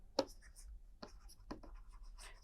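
Marker or chalk strokes on a board during a lecture on hydraulic piston pumps, a sharp tap then a few short scratchy strokes spaced apart, close and fairly quiet over a low room hum.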